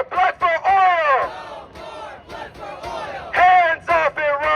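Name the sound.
protest crowd chanting and cheering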